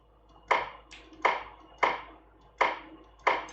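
Dillweed resource in an MORPG game struck with a sickle: five crisp, evenly spaced tapping harvest hits about once every three quarters of a second, close and clear with no talk.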